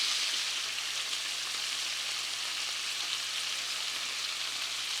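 Scallops sear undisturbed in a hot pan, producing a steady, even sizzling hiss that continues without a break.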